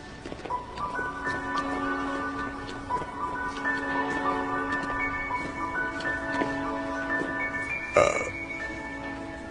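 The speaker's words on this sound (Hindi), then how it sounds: "देखिए, 10 मिनट में ये इनकी 18वीं डकार है।" A man with suspected pancreatic cancer belches repeatedly, a string of drawn-out, voiced burps against a steady hum, with a louder sharp burst near the end.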